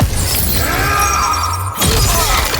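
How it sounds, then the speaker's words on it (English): Skulls shattered by a fighter in the video game Mortal Kombat 1, a loud, dense burst of crashing, breaking debris over game effects, briefly dipping before another smash. "Sub-Zero smashes his way through them while Scorpion trades blows"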